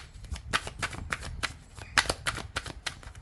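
Playing cards riffled and shuffled by hand at a tarot-style reading, a steady series of crisp flapping bursts about every third of a second, close and clear over light room noise.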